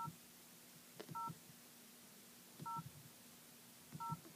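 Keypad tones from an LG530G Tracfone cell phone as its menus are navigated: three spaced pairs of short, faint electronic beeps with soft button clicks between them.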